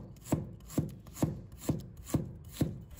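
Knife slicing peeled ginger on a cutting board, six evenly spaced crisp cuts with a soft thud on the board each time, close and clear with no talk.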